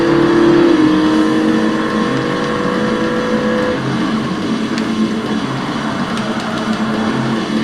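An Audi TT's engine roars in the Forza Motorsport racing game on a classic Xbox. It is loud and close, with a sustained high revving tone that drops away partway through, leaving a rushing engine drone.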